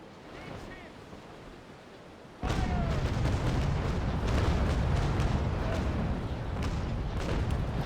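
Cannon broadside from a sailing warship in Naval Action, erupting suddenly after a quiet stretch into a dense rumbling barrage of overlapping booms over sea wash, sustained for several seconds.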